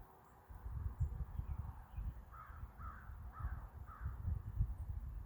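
A crow gives four harsh caws in a quick, evenly spaced series, heard at a moderate distance over a steady low outdoor rumble. No one speaks.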